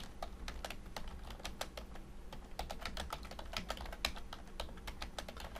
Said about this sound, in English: So I will just type some text.